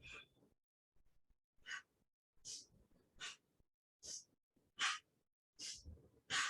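A person practices alternate-nostril yoga breathing, drawing air in through one nostril and out the other; soft, close breaths come in a slow, regular series of about eight airy pulses separated by short pauses, with no talking.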